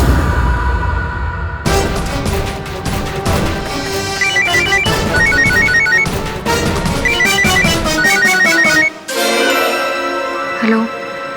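A telephone rings loudly and steadily in a repeating electronic pattern, set against a dense musical background with a crash near the end; no one speaks over it.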